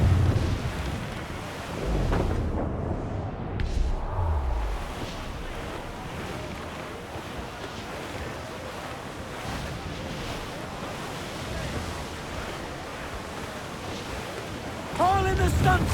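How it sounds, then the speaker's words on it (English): A squall at sea in the Assassin's Creed 4 Black Flag video game, with loud, steady wind and crashing waves that rise and fall across the whole stretch, gusting harder at the start and near the end. "Let's ride this squall!"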